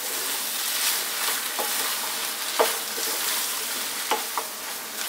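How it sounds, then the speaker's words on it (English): Cooked lentils fry over lively heat in a pan, a steady hiss of sizzling broken by several soft scraping strokes as they are stirred almost constantly. "stirring pretty much all the time on this kind of quite lively heat"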